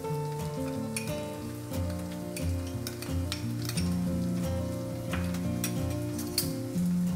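Grated carrot and finely chopped onion sizzle and fry in a pan, a steady close crackling hiss with scattered pops and light stirring clinks throughout, no talking.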